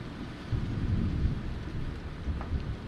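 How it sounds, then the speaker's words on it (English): Steady rain pours with low thunder rolling throughout in the survival video game Vein, a continuous storm bed with no voices. "So, and it's raining,"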